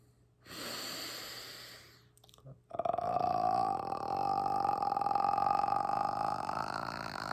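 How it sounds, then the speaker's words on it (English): Deep audible inhalation during a throat chakra breathing ritual, a long airy breath drawn in alone, followed by a louder sustained voiced exhale with a steady vocal tone. "Deep breath in."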